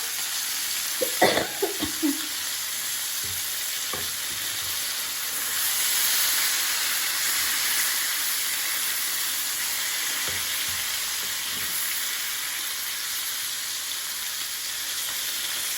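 Fish coated in a flour mix frying in hot oil over high heat, a steady close hiss and sizzle that swells slightly midway, with a few brief clinks of a utensil near the start and no talking.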